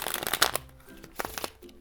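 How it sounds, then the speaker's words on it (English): Monopoly Deal playing cards riffled in one quick shuffle, a crisp papery burst of flicking and crinkling that fades into a few lighter taps and snaps, close up with no voices. "I'll do one shuffle for visual purposes."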